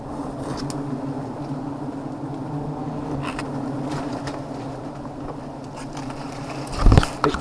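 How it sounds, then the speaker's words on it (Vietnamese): Dense, steady swarm of bees buzzing around a low wild hive as it is cut out, the droning hum continuous and close throughout, with a brief louder knock near the end. "Ong nó bắt đầu về rồi."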